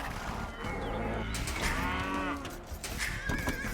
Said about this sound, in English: This is my cow. This cow was made for me.